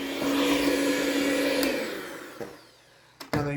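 An electric mixer whirs loudly as it combines milk chocolate chip cookie dough ingredients, holding a steady motor whine before winding down, then a couple of sharp clunks as it stops.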